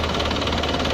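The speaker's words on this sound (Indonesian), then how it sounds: "Jadi mesin mobil ini kita gas" Diesel engine of an Isuzu Panther car, said to run rough, being revved, a loud continuous throbbing roar with rhythmic knocking pulses, close up and alone.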